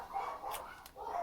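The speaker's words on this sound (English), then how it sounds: "Dogs again." Dogs barking somewhere off, a few faint, short barks over a quiet background.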